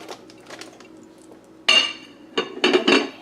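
A metal lid set onto a pot of Pampered Chef chicken pot pie chowder simmering on a stove, two or three sharp clinks and clatters close by, with quiet kitchen background between them.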